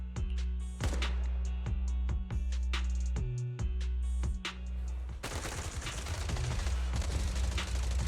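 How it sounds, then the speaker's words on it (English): Rapid gunfire from the video game Zenless Zone Zero: sharp, loud shots in an uneven string that builds into a dense, continuous burst of firing toward the end, with no voices over it. "Gunfire? This pattern. Suppressive marching fire."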